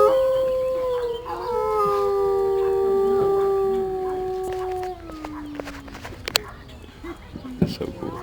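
Wolves at Wolf Park howl in long, sliding, overlapping tones for several seconds, then fade out, followed by a few faint clicks and sparse background noise.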